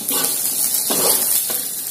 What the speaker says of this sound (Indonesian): Aduk sebentar hingga buncisnya empuk.